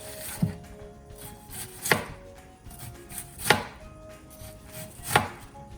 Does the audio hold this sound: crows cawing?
no